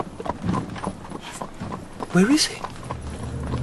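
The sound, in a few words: horse and cab passing, hooves clip-clopping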